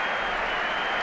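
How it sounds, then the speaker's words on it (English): Baseball stadium crowd at a 2001 Braves vs Astros playoff game, a brief, dense wash of cheering and applause at steady loudness. "sarcastic cheer from the crowd"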